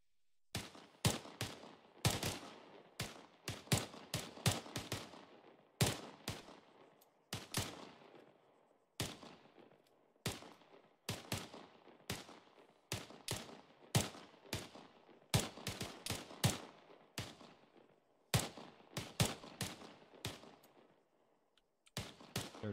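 Marines fire rifles from the kneeling position on a range, a long run of sharp, loud shots in uneven bursts, some overlapping, with brief gaps between volleys.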